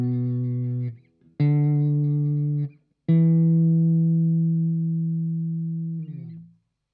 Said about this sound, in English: we place our fingers between those frets on the fretboard, which is the wood underneath, in order to create a noise